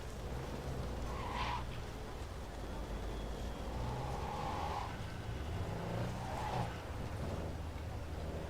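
Car driving in Cyberpunk 2077, a steady engine rumble and road noise running throughout, with brief higher whooshes and revving swells rising over the continuous drone.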